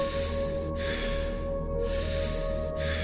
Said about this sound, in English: As you breathe in this balanced way